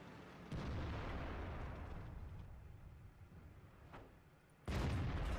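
A heavy tank cannon blast in World of Tanks booms, its roar rumbling and slowly fading, then a second loud shot cracks out near the end.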